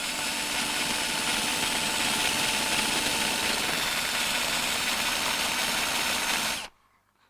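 A cordless screwdriver drills into material, giving a loud, steady whirring grind that runs unbroken for several seconds and then cuts off abruptly into near silence, with no talk.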